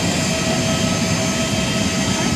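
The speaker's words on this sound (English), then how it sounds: "Huge engine." Loud, steady roar of an Emirates Boeing 777ER jet engine close by, a broad continuous rumble and whine holding level throughout with no talking over it.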